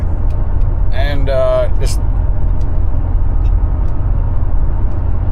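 A newer truck cruising at steady speed, its engine and road noise forming a loud, constant low rumble throughout, with a brief voice and a short tonal sound rising over it early on.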